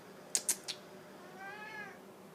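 A pet cat gives one drawn-out meow at close range, preceded by a few sharp little clicks in an otherwise quiet room.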